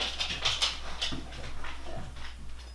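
A pet dog whimpers and pants softly in a home kitchen, its brief high whines coming in short bursts close to the microphone with quiet household clatter underneath.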